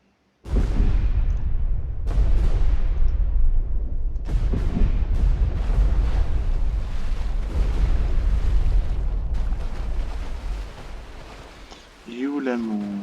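Depth charges fired and exploding during a destroyer anti-submarine battle in the WWII naval game Destroyer: The U-Boat Hunter: several heavy booms roll in one after another in a dense, loud, sustained rumble, with a voice speaking under them near the end.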